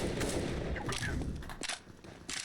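Gunfire in a first-person shooter video game, a burst of sharp shots and rattling automatic fire packed into a couple of seconds, loud and close with brief pauses between volleys.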